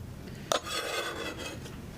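Grated ginger and its juice are scraped off a grater with a sharp rasp at the start, followed by a steady close scratching and rubbing that continues evenly to the end.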